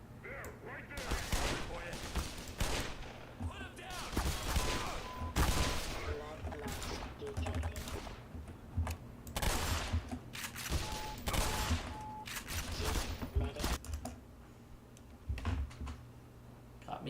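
Shotgun blasts in the video game Black Mesa ring out repeatedly amid a dense, busy game soundscape of gunfire and effects, with talking running over the top.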